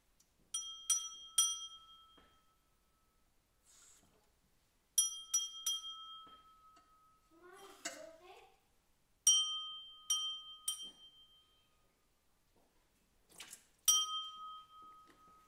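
A drinking glass is filled with water a little at a time and tapped to tune its pitch: bright ringing clinks in quick groups of three, with a short burst of pouring water between them, close and alone in a quiet room.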